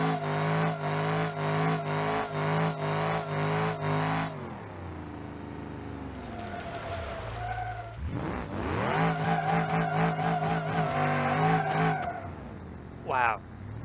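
Turbocharged car engine in BeamNG.drive, off-road build, revving loud and close in rising and falling sweeps with tire skidding, a voice talking over it.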